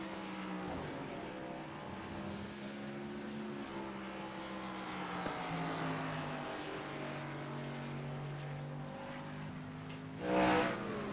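Racing trucks in a truck series roar around a track, a steady layered engine drone with rising and falling pitch as they pass, ending in a louder burst from a nearby truck.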